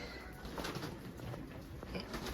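A pair of nesting birds on a farm cooing softly and steadily, low muffled coos repeating over a constant background hiss.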